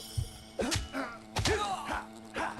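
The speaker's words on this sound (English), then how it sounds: "there's a big wallop from my sword" A sword strikes in the video game Fable Anniversary, landing as several heavy, dull thuds and whacks in quick succession, mixed with grunting vocal effects from the fighters.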